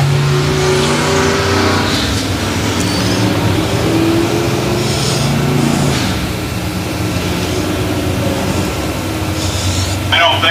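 Cars roar around the dirt track at Central Missouri Speedway packing the high side, engines droning and revving in an unbroken wash, with a voice talking over the noise.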